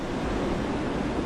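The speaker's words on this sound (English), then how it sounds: "This is pretty close to the waves that we would surf, actually, even a little bigger than Joe is comfortable with" Ocean waves break at a surf reef as a steady, loud broadband roar with a wind-blown rush, continuous and alone.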